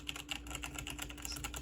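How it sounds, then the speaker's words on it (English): Someone types on a wired Logitech G810 keyboard, producing a steady, close run of soft, not very clicky keystrokes over a low background hum. "Keyboard here, this is the Logitech 810. It is wired."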